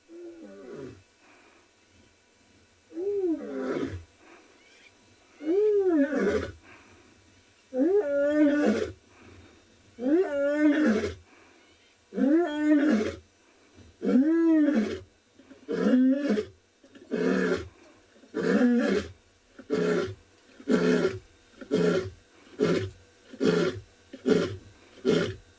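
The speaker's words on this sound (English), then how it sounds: "Wow, there is nothing like a lion roar" A lioness of the Mogoro Pride roars in a long series of deep, rhythmic bellows that start slowly and build into a rapid run of shorter grunts, loud and close, with no talk over it.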